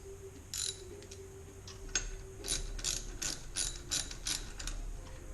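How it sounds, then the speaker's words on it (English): A valve spring compressor tool being screwed down on an LS engine valve spring during removal and install, giving rapid metallic ratcheting clicks in short bursts, close and fairly crisp over a low hum. "So you basically just screw her down like this. It depresses the spring."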